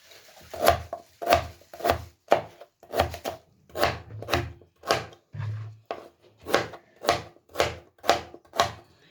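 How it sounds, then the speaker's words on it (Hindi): A knife chops radish into pieces on a cutting board, with about fifteen crisp, evenly spaced thuds that sound close and clear, without speech. "इस तरह पीसीस में हमने इसको कटिंग कर लेना"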